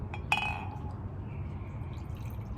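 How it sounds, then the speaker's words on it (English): Japanese sake poured into a glass at home: a short, near splash and trickle with a bright glassy clink near the start, then fading into quiet room tone, no talking. "I'm gonna pour myself another little bit of a glass real quick."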